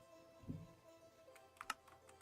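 Computer keyboard clicking, a few soft scattered keystrokes with a small cluster of quick clicks near the end, faint and close over a quiet hum.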